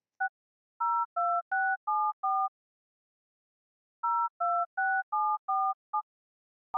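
Telephone keypad touch-tone beeps from a browser game come in two rapid runs of five or six crisp dual-tone presses separated by a brief silence, close, steady and loud, with no voices.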